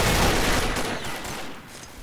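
Legion heavy gun firing in the online shooter Combat Arms, a dense roaring burst of rapid fire that fades out over a couple of seconds.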